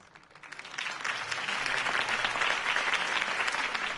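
Steady crowd applause fills a campaign rally scene in Telltale's Batman video game, rising quickly after a soft start and holding as a dense, sustained clatter of many hands with no talk over it.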